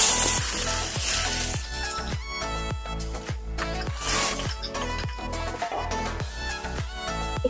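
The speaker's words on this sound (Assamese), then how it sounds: "এতিয়া পিঁয়াজ দিম" Onions sizzle and fry steadily in a hot pan over medium gas heat for a spicy chicken curry, a loud continuous crackle with periodic stirring scrapes and no talking.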